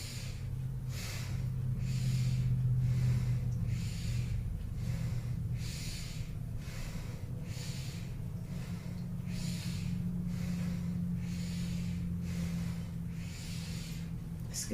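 Rhythmic breathing during a kundalini yoga kriya: forceful nasal inhales and exhales, close and steady, repeating roughly every one to two seconds over a low background hum.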